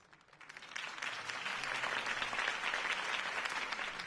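A crowd bursts into applause after a political speech in the video game Batman: The Telltale Series, clapping rising quickly from quiet to a full, steady roar that holds loud to the end.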